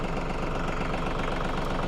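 A TYM 2515 25-horsepower tractor engine idles steadily, a loud, close, continuous diesel rumble with an even low throb and no voices.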